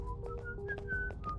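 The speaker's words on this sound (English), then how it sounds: "Regulus whistles and charges towards the enemy" Regulus, a character in the video game Reverse: 1999, whistles a quick run of short, bright notes at varying pitch over a low background rumble of game sound.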